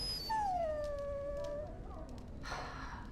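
A dog in the video game Dragon Age whimpers and howls in one long, falling whine that starts high and sinks, close and clear, ending with a short rustle.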